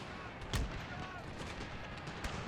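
Musket gunfire from the Pike and Shot video game, a couple of dull, distant volleys standing out over a constant rumbling battle bed.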